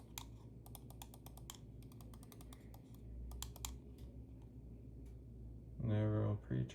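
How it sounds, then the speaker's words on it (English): A Vaxee E1 gaming mouse has its buttons pressed repeatedly, giving crisp, faint clicks in quick clusters with short gaps, close up and otherwise quiet. "let's check out the click implementations."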